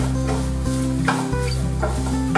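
Grated coconut, cashews and raisins are stirred in hot ghee, with a steady frying sizzle and repeated scraping strokes of the spoon, close and continuous with no talk.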